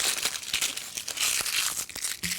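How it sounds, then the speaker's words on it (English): Dry, papery outer peel crackles and tears as it is pulled off a halved onion, a close series of crisp crinkling rips over a little more than two seconds. "pull off that outer peel."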